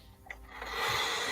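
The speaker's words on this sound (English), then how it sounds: "as I'm rolling some dice" Dice rolled during a tabletop roleplaying game session give a short rough rattle and scrape that swells into a steady, close clatter.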